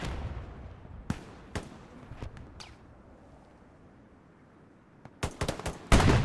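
Artillery strikes land across a battlefield in the World War II game Hell Let Loose at Smolensk. Scattered sharp blasts are followed by a quiet stretch, then a dense, louder cluster of impacts at the end.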